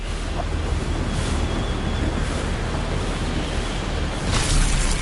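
Water rushes and splashes in the video game Anthem, a steady broad wash like surf with a surge near the end, loud and unbroken, with no talk.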